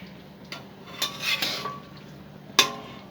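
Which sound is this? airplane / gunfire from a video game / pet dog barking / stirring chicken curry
stirring chicken curry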